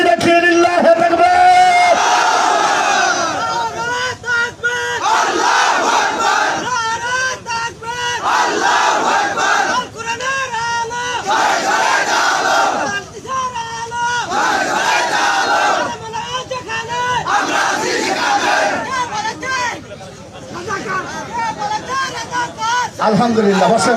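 A large crowd at a Bengali Islamic sermon (waz) roars a takbir chant in loud, repeated waves of massed shouting over about twenty-four seconds, with brief dips between the bursts.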